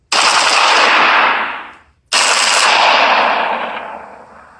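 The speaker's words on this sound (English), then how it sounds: "So we got shots fired" Loud, close bursts of machine gun fire, two long sustained volleys separated by a short pause, each fading out at the end.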